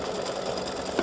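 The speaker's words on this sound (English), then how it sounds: "Color 5 is going to stitch the buckle." An embroidery machine stitches the buckle of a St Patrick's gnome design in a fast, steady mechanical whir with close, even needle rhythm and a small knock near the end.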